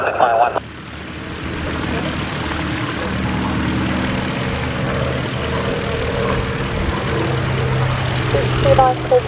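Propeller aircraft at Cosford Airshow building a steady droning engine roar on the runway for takeoff, loud and continuous, with voices speaking over it.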